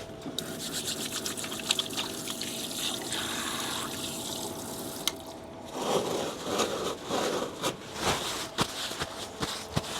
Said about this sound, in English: Right, let's wash up.